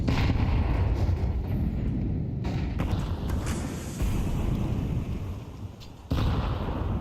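Gunfire in Counter-Strike crackles and booms in dense, overlapping bursts during a professional match, loud and continuous with sharp impacts scattered throughout.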